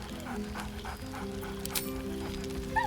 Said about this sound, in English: Scratch barks merrily in something like agreement.